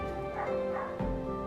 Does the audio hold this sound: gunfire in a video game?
no